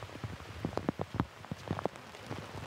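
Rain shower falling during a disc golf round, a soft steady patter with scattered sharper drop hits, fairly quiet and close, with no voices.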